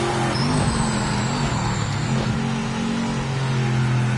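A race car engine in the Project Motor Racing video game holds a loud, steady drone at light throttle, droning on without pause as the car runs through a corner.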